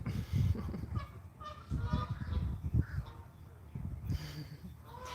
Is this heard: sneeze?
no